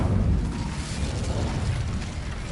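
Incendio fire spell cast in Hogwarts Legacy, a steady low roaring whoosh of flames that stays loud and sustained throughout with rumbling, crackling texture and no pause.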